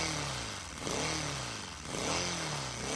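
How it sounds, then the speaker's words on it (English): A small Lego engine with a 3D-printed crankcase, running without lubrication, revs in a buzzy, rising and falling whine, close up and steady for a few seconds. "That's a little Lego engine."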